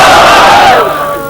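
A large crowd shouts a loud, unified battle cry in reply to the Nara-e-Takbeer chant, a roaring massed voice that peaks at once and then fades off.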